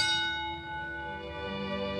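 A single bell rings out to start a boxing round, a clear struck tone whose sustained overtones slowly fade, heard alone with no talking.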